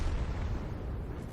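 A T10 tank's ammo rack detonates in a tank video game, a heavy rumbling explosion that stays broad and sustained throughout, with no voices over it.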